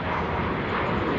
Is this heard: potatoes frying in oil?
no